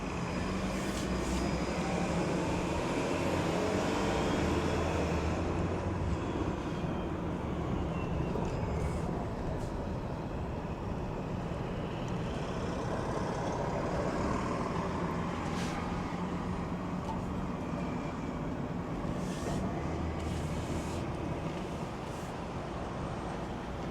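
A bus rumbles past on a city street in Oakland, California, a steady broad engine and road drone lasting throughout, fairly loud and close, with no talking.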